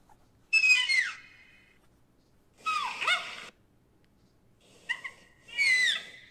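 A raccoon gives a few short, high chirps and warbles in separate bursts with quiet gaps between them, clear and fairly close.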